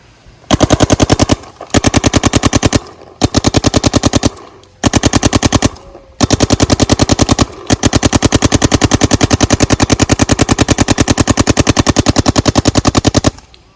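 Planet Eclipse Gtek 170R paintball gun firing in long rapid-fire strings, a sharp machine-gun-like stream of pops broken by brief pauses, very loud and close, ending in one extended burst.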